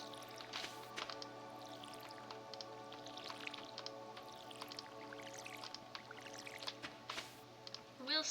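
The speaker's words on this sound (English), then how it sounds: "I will water the beans on the off chance that maybe they will produce more beanage." Watering beans in Stardew Valley: soft, quiet splashing and dripping from a watering can, a few faint liquid squishes over a steady low hum and light background music.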